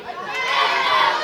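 A wrestling crowd at a Slammasters show roars and cheers in a steady, swelling wash of voices that builds across a brief moment.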